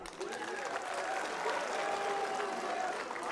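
A large crowd in front of a stage at a political rally applauds, dense sustained clapping throughout at moderate distance, with a few voices mixed in and a faint tone running underneath.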